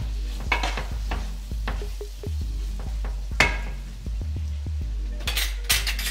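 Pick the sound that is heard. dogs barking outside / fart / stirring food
stirring food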